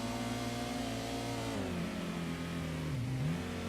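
A Honda Civic's VTEC engine in Gran Turismo drones at a steady high pitch, then its tone dips and rises twice as the revs shift. The sound is continuous and unbroken, with no talk over it.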